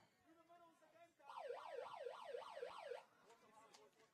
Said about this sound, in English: the halftime siren goes